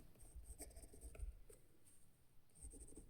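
Handwriting an equation during a Class 10 maths lesson on linear equations: faint, scratchy strokes come in short bursts with small pauses, quiet and close, with no talking.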